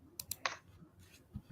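Several sharp computer keyboard key clicks land in a quick cluster, three close taps followed by a softer, isolated click later on, all quiet and up close.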